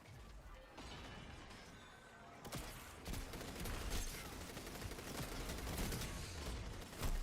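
Dense, continuous video game gunfire, rapid shots and crashing impacts blurring together into a steady loud barrage that keeps going with no break and grows heavier partway through, with no voices.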